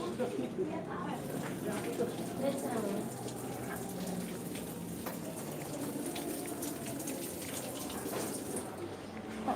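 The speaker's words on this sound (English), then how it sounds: "You can wash your hands." Water runs steadily from a tap as preschool children wash their hands, a continuous splashing flow under nearby children's and adults' chatter.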